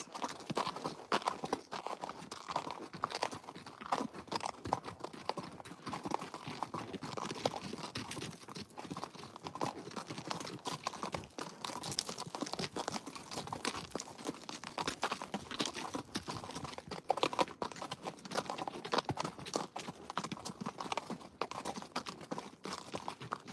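A horse's hooves clip-clop on a trail in a steady walking rhythm, soft and fairly close, with crunching and rustling underfoot throughout and no talking.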